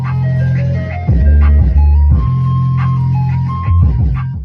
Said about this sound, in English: Over time, Turkey in the Straw became one of the melodies associated with American ice cream trucks